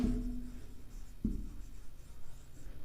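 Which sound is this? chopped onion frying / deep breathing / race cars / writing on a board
writing on a board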